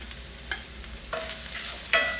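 Ginger and garlic aromatics sizzle in oil in a pan over medium-low heat, a steady close hiss with a few clinks of a utensil scraping and stirring. Nobody speaks.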